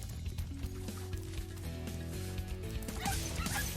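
Small chihuahua-like dogs in Spyro the Dragon Reignited yip and bark in quick repeated bursts over looping game music, fairly faint within the mix.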